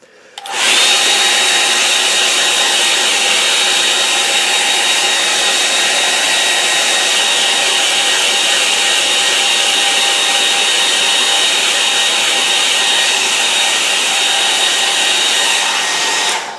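A hair dryer blows steadily on a watercolour painting of an autumn Lakeland scene, a loud continuous whooshing hum that starts abruptly and runs unbroken for over a quarter minute with no talking.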